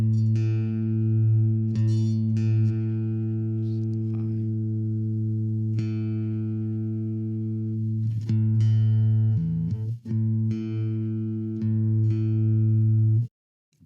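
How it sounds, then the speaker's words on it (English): A guitar's A string fretted at the fifth fret and plucked repeatedly during tuning, ringing out an E note with sustained tones, each pluck clear and close, alone with no voices. "the next string is going to be A, and it's going to sound like E when you fret it on the 5th fret"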